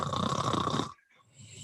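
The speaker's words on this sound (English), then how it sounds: "Do you suffer from secondhand snoring?" Loud, close snoring rumbles through a single long breath that cuts off abruptly, followed by a fainter, softer breath.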